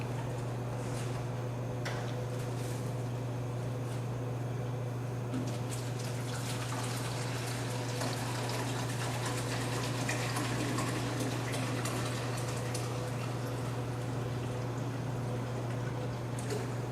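Water pours steadily into a tank to fill it, a continuous close hiss and splash with a constant low hum underneath and no talk.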